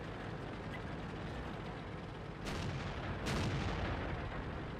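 Artillery fire in the tank game World of Tanks booms at a distance in two muffled blasts under a dense, rumbling battle ambience.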